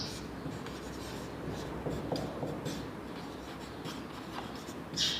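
Pen scratches steadily on paper as a maths formula for a cone's slant height is written out, a soft continuous scraping with small taps, close and quiet, with no voice over it.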